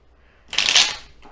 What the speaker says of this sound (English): let's get shuffled up here